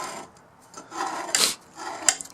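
Glue is scraped off waste wood during shelf making, producing a few short, dry rasping strokes with a gritty texture, close and fairly quiet, with no talking.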